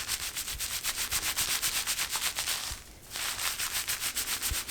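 A gritty sea salt scalp scaler is massaged into the scalp with steady rhythmic scrubbing strokes, close and fairly loud, pausing once briefly and then resuming, with no voices.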